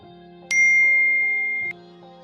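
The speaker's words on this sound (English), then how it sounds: "That message notification is not me." An electronic message notification chime plays during a video: a bright ringing ding that holds for about a second over a steady tonal musical bed, then cuts off.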